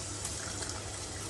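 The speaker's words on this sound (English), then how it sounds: "I'm going to add some pasta water." Starchy pasta water pours from a container into a pan as a steady, close gushing splash. The stream is continuous and fairly loud for its short length.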